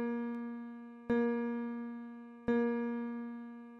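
A sustained musical note A sharp, also called B flat, sounds alone and is restruck twice at even intervals of roughly one and a half seconds, each strike decaying gradually.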